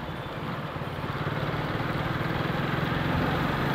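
A motorcycle engine in third gear on a busy road holds a steady, mid-pitched drone that swells slightly as the bike pulls forward, close and continuous with no talking.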